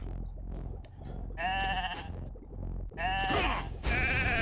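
A game sheep bleats in Raid: Shadow Legends, two or three loud, drawn-out wavering bleats separated by short pauses over a steady background hum of game sound.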